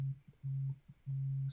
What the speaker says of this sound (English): I'm getting a phone call already.